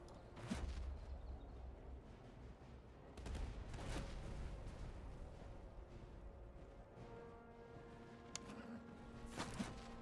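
A musketeer unit in a Napoleonic-era strategy game fires a ragged musket volley. Several sharp cracks and booming reports come at uneven intervals over a low battlefield rumble, fairly faint, with no talk.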